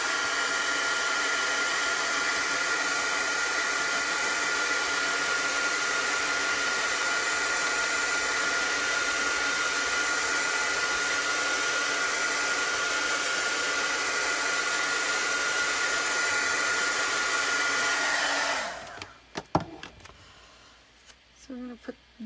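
A heat tool blows a loud, steady whoosh for about eighteen seconds while drying chalk paint on a craft project, then cuts off into brief handling knocks and clatter.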